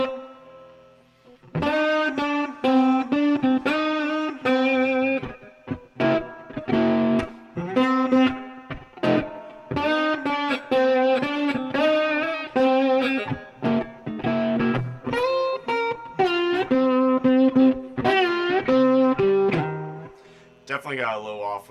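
Humming of a melody over slide guitar, the voice following the sliding pitched guitar notes, with a slightly distorted electric tone, steady and up close, with brief pauses between phrases.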